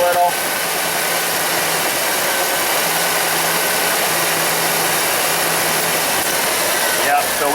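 A Firebird Trans Am engine idles steadily up close, a constant rumbling drone with a faint fuel-pump whine running underneath throughout.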